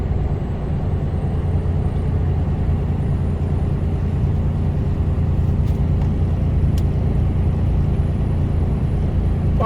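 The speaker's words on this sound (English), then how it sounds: "Look at these cars diving in front of the truck there." Road traffic heard from inside a Mercedes-Benz HGV truck on a UK road, a steady loud broadband engine and road rumble running throughout with no distinct events, as cars cut in ahead.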